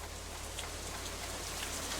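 Steady light rain falls in a video game setting, an even hiss of drops spread across the whole stretch with no talk.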